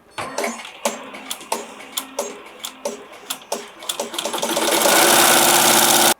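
An embroidery machine stitches a monogram onto a plush teddy bear with a fast, regular train of clattering needle strikes, then swells into a louder continuous whir near the end.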